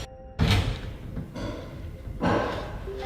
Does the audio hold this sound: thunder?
no